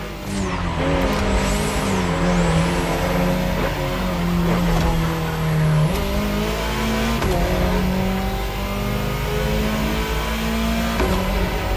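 An Alpine A110 sports car races in The Crew Motorfest, its engine revving and rising through gears with sharp shift drops and tire squeal, loud and continuous without speech.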